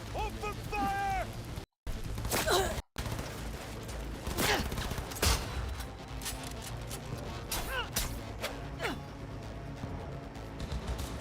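Gunfire in the video game Cyberpunk 2077: dense bursts of shots and crashes over a busy mix of effects, loud and continuous, with a couple of abrupt dropouts early on and voices shouting in the fray.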